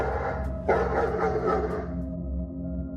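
A Golden Retriever barks a few times in close succession, fairly near and loud, over a steady humming background tone that lingers after the barks fade.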